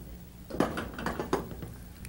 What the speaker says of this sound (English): For that we're going to have to put our lid on